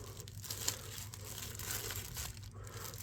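Paperwork taped inside a Buck knife box is handled, giving steady soft crinkling and rustling of paper at close range, with no talking.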